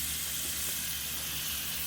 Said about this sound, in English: I'm going to be sauteing all of this chopped vegetables that I have here